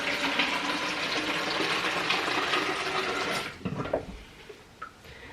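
Water poured into a glass of juice being mixed as a drink before a charity football match, a steady close splashing fill that stops abruptly, followed by a few small clinks and drips.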